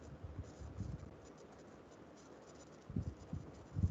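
Chalk or marker writing on a board during a lecture on adders, heard as quiet scratchy strokes in short bursts near the start and again toward the end, with soft room noise between.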